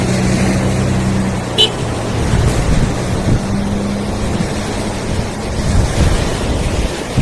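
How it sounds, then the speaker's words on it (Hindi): A car on a beach drags a rope along the sand, its engine droning steadily close by over the wash of surf, with someone talking over it. "ये गाड़ी वाला रस्सी लेके जा रहा है खींच के।"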